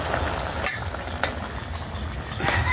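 A rice mixture is stirred in a cooking pot, soft scraping and sizzling with a few sharper clacks of the utensil against the pot, close and steady with no speech.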